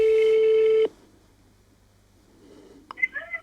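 A mobile phone call rings out through a telephone line, one long steady ringback tone that cuts off, followed by quiet line noise and a few faint electronic tones at the end.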